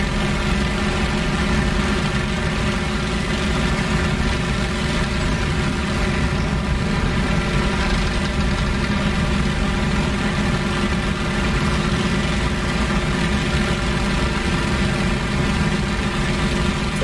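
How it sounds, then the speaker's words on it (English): A World War II fighter plane engine from a flight combat game drones loud and steady at reduced throttle. The constant, even hum holds throughout with no other sounds. "Dropping my throttle, cool off my engine just a little bit."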